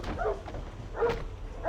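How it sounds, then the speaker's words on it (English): A dog in the video game Still Life gives two short, close barks or yips about a second apart, loud and clear against a quiet background. "he's a very good, but very dangerous dog"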